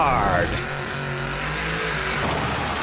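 Demolition derby cars racing on a junkyard track, engines roaring loud and continuous in a rough, dense wash with crashing noise, under an announcer's commentary.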